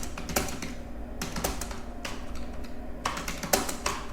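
Rapid clattering keystrokes on a computer keyboard, typing text in MS Word, come in uneven bursts with brief pauses, close and moderately loud, with no speech.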